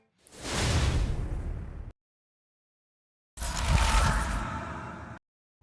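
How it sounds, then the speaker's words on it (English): Two long airy swooshes, each close to two seconds, split by a stretch of silence: broad rushing sweeps dropped into an edit. "We can make it even more punchy by adding a whoosh sound."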